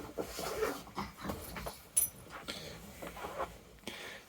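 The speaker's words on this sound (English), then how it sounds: "The noise, by the way, is the dogs playing." Pet dogs playing indoors: scuffling, snorts, huffs and panting come in irregular bursts at moderate volume, with one brief sharper yelp-like accent.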